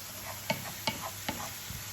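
Vegetables frying in a pan for egg fried rice while garlic and onion seasoning is stirred in, with a soft steady sizzle broken by three or four sharp spoon clicks against the pan at a regular pace.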